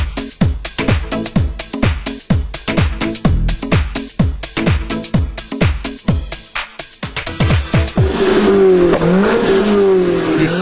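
A seriously modified Toyota MR2 Turbo four-cylinder is blipped repeatedly in sharp, loud revs with quick pauses between, then held into a sustained high rev with turbo whistle near the end.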